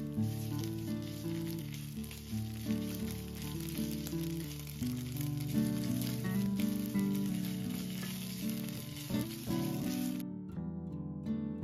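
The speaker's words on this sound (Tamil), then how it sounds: "ஆலிவ் ஆயில் ஊற்றிட்டு கார்லிக் ஆட் பண்ணிவிட்டு ஒரே ஒரு சின்னதாக ஆனியன் வந்து நீள நிலமாக கட் பண்ணிவிட்டு அதையும் சேர்த்துக்கோங்க" Garlic and a sliced onion sizzle steadily in olive oil in a pan, a dense continuous frying hiss with occasional stirring clatter, close and fairly loud, with no talking, cutting off abruptly near the end.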